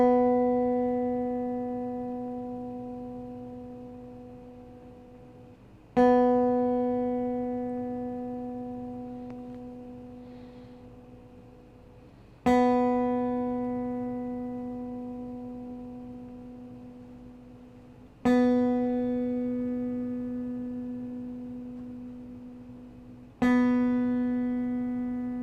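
A guitar's B string is plucked five times at slow, even intervals as a tuning reference, each clear note ringing out and slowly decaying before the next pluck.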